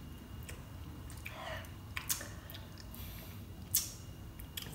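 Raw kitchen spice being chewed and bitten, with soft moist crunches and a few sharper bites over a steady low background hum; close and fairly quiet.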